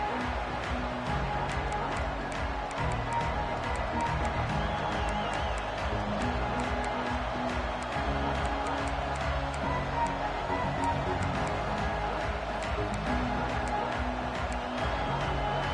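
A large college football stadium crowd fills the air with a steady, dense roar of distant voices at a game, continuous and even throughout, with faint speech mixed beneath it.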